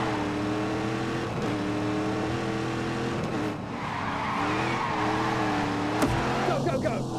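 Racing-car engine drone with rising and falling pitch and a squeal of tires in The Grand Tour Game, continuous and loud, with a voice talking over it.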